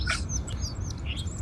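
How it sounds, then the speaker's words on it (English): A song sparrow singing at a backyard feeder, heard close up: a few bright, quick chirps and short trills rising over a low steady background rumble. "Here's a close-up of our song sparrow."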